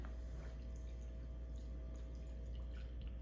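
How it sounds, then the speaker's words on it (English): Salt brine poured into a jar of pork gives a faint, steady trickle and drip of liquid under a constant low hum, close and quiet throughout. "your brine and you just start pouring it in"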